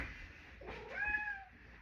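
A talkative pet cat gives a single clear meow, rising and then falling, close by in a quiet room.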